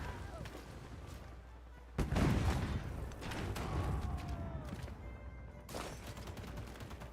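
Unit attack in Civilization 7 with gunfire: a sharp burst of shots at about two seconds followed by rumbling, crackling battle noise and another loud volley near the end, over a constant game background.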